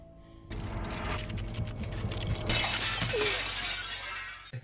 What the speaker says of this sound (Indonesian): Tapi kemudian cermin itu pun pecah di hadapannya.